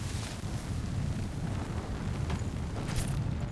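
Fire pumped into an enemy machine in the Horizon Zero Dawn video game, a dense, steady roaring rumble like a burning blast, continuous with brief crackling bursts near the end, no talk.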